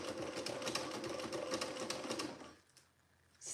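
A sewing machine stitching a Peony dress runs in a fast, even rattling chatter close by for about two and a half seconds, then stops into near quiet before a short restart at the end; no talking.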